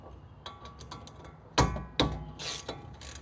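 A ratchet clicks and clacks while four bolts on a Porsche Boxster 986 front hub are loosened, with sharp metallic knocks and short bursts of mechanical rattling, close and intermittent, with no talking.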